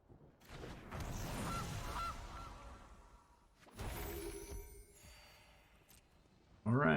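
Gilded Goose honk in the Magic: The Gathering video game, a short loud burst of stacked honking tones right at the end, after stretches of game sound effects and whooshes.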